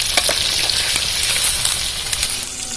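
Chicken fries in masala for a chicken dum biryani, a loud, continuous sizzle close by, scattered with sharp spattering crackles.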